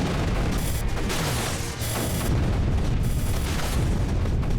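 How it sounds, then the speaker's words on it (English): Turrets fire and explosions boom in the strategy game Creeper World 3, a dense, continuous wash of rumbling blasts and shooting with sharp bursts layered over it, loud and unbroken. "There's lots of turrets shooting at my"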